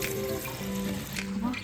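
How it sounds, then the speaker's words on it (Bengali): Dry-roasted moong dal gets rinsed under a running kitchen tap, with a steady rush of water throughout and a voice talking over it. "শুকনো খোলায় মুগ ডালটা ভেজে রেখেছিলাম, এবার সেটাকে ভালো করে ধুয়ে নেব।"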